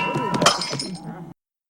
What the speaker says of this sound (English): Is there one of the light falling and then one of it smashing on the floor?